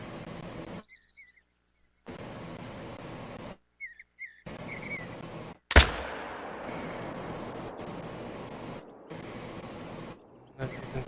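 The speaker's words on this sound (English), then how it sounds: "As you can tell, that was a pretty good shot." One loud .308 rifle shot in theHunter: Call of the Wild cracks sharply and rolls off into a fading echo, with stretches of quiet ambience and a voice talking around it.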